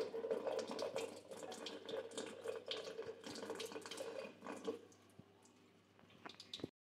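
A thin stream of water running from a weak household tap, used to wash hands: steady close splashing and trickling with small drips, fading a little before stopping abruptly.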